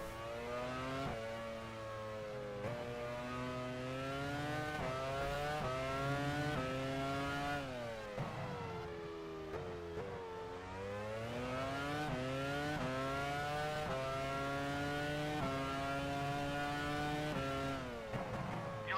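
A Formula 1 car engine in the F1 Challenge 99-02 racing game, Brazilian Grand Prix, screams loudly and steadily for the whole stretch, with pitch climbing through upshifts and dipping on lifts, and no talk over it.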